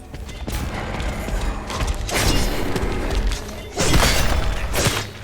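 Shotgun in the Silent Hill 2 remake firing, two heavy booming blasts with mechanical clatter and crashing impacts between them, loud and close.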